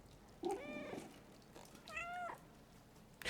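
Cat meowing in the video game Stray, two distinct close meows with a brief pause between, the second higher and more drawn out, alone over quiet background.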